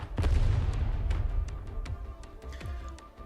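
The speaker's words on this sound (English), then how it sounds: "The rising airflow of the grand explosion sends the three mercenaries into the air" A video game's grand explosion shockwave lands as a heavy low boom that rolls on and fades, followed by scattered sharp cracks and debris-like pops, loud and close, with no talking.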